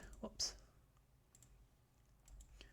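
Sharp computer mouse clicks, one bright click near the start followed by a few fainter ones scattered over a quiet background.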